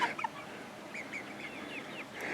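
Barred Rock chickens cluck softly nearby in a backyard, a scattered series of short quiet clucks and chirps over faint outdoor background.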